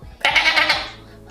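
A person imitates a goat with a single wavering, nasal bleat lasting about half a second, close and fairly loud, tapering off into quiet.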